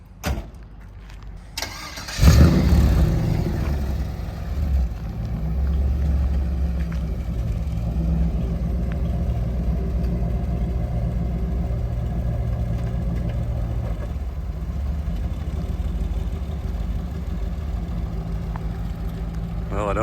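Hot rod car starting up with a loud burst, then a deep rumbling engine held steady through a test drive, loud and close, with people talking now and then.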